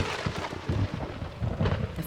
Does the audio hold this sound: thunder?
yes